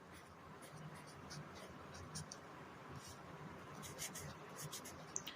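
Pen writing on paper while working through a signals-and-systems math problem: quiet, intermittent scratchy strokes in short bursts, heavier toward the end, over a low steady room murmur.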